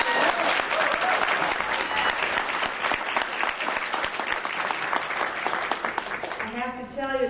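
A conference audience claps loudly and continuously to welcome Michele Bachmann, dense applause filling the room before tapering off, with a voice briefly speaking as it fades.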